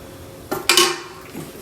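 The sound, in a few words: closing the lid of a Sunbeam pie maker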